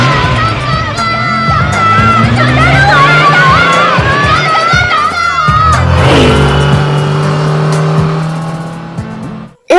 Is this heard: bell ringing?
no